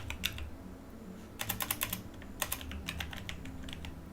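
Keys clatter on a computer keyboard in quick bursts of clicks, with short pauses between flurries, fairly close against a low background hum and no voices.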